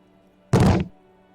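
A single heavy, dull thud of a foot kicking a barred, sturdy wooden door in a video game, short and close, with nothing else around it.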